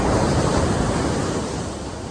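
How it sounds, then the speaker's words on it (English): Ocean waves breaking on the shore at Newport Beach give a steady, loud, broadband surf roar with slight wind noise, easing off a little toward the end. "Look at those beautiful waves."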